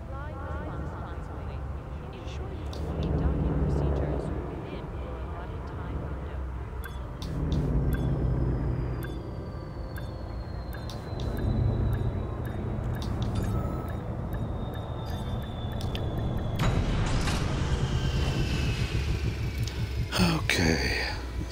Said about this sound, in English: Docking completed.